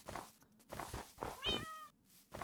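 A cat meows once in a video game set in a snow biome, a clear rising-and-falling cry standing out over soft, steady, rhythmic background game sounds.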